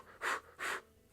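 Two slow, deliberate breaths, each a soft airy rush close to the microphone, separated by a brief pause in near silence.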